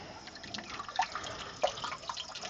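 Water runs continuously from an open tap at a valley campsite, a faint trickling and dripping with a couple of small splashes against a quiet background.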